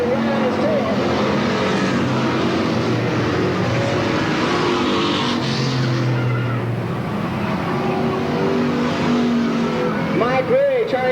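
Race cars battle on the Sandusky Speedway oval in 1985, a dense, loud engine roar with pitch-shifting whines as cars sweep past, while a commentator talks over it.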